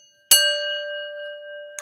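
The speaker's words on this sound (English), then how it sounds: "let me get the bell for you" A small bell is struck once and rings out clearly with a long, pure, slowly fading tone, then is struck again at the very end.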